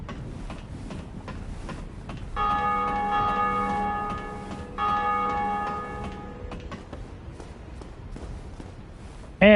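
The Bell of Awakening in Dark Souls rings as a church bell, two long resonant peals with shimmering overtones rising over soft ticking game ambience, ending on a brief sharp sound.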